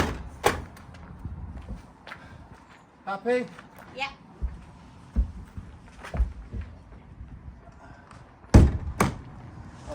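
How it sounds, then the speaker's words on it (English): A wooden stable door at a foal yard is handled, giving several dull thumps and knocks spread through the clip, with one loud bang near the end, while people talk quietly nearby. "It's only a stable door."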